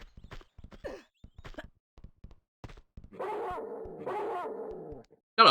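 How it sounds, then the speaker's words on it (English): A dog in the PlayStation game Tomb Raider 2 gives a few short barks and yips among quiet thumps, followed by two longer growling, sigh-like dog sounds. "That is a very Alone in the Dark original version dog noise."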